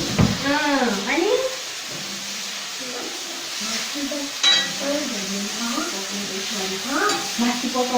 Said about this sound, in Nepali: मासु पकाउँदैछ